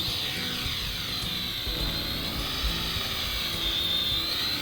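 A Bolon Toys K-950 toy trainer drone lifts off and hovers, its small propellers making a steady high whine whose pitch sweeps gently up and down. It stays close and fairly loud, with no talking over it.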